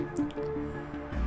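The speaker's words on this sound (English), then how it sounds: "we'll get points from popping these cure bubbles" Cure bubbles are popped in Plague Inc. Evolved, giving a couple of soft, wet, squishy dripping pops over a low game background, with no voice.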